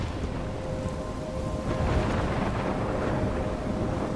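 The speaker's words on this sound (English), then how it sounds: "I'm trapped in a storm?" Thunderstorm ambience in the Life is Strange video game: a dense, steady roar of rain and low rumbling thunder that swells slightly after the first couple of seconds, with a faint tonal hum underneath and no voices.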